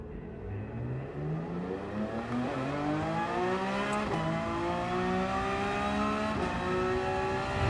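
Race cars launching off the start in Gran Turismo 7, GT3 machines revving hard as engines climb through repeated rising gear pulls, loud and close with overlapping cars and no talk.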